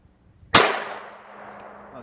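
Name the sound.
22 long rifle shots from North American Arms revolver hitting barrel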